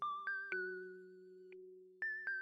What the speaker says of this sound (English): dong that notification bell so you'll never miss an episode